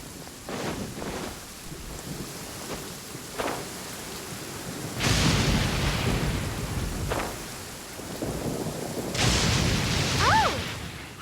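A Genshin Impact storm rumbles with recurring thunder over a steady wash of rain and wind, with louder cracks and rolls coming in bursts across the stretch.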